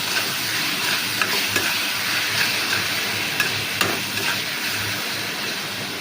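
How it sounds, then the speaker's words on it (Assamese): Tomatoes with salt sizzle and fry in a pan while being stirred, a steady close crackle with occasional soft scrapes and no talking. "নিমখটো অলৰেডি দি দিলোঁ, ইয়াক অকণমান হিলাই দিওঁ।"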